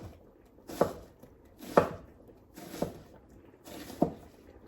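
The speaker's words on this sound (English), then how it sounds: "And now I'm just dicing up our onions" Four evenly spaced chops of a knife dicing onions on a cutting board, each a crisp thud a second apart, close and clear in a quiet kitchen.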